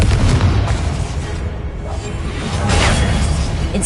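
Confringo explosive spell in a Harry Potter video game on PS5: a loud, dense booming blast with crackling debris and whooshing rumble, sustained for several seconds.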